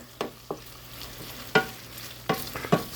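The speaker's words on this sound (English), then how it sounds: "Right now I'm physically browning up. As you can see, some nice hamburger" Hamburger meat browns in a frying pan with a low background sizzle, broken by several sharp scrapes and clatters of stirring at irregular intervals.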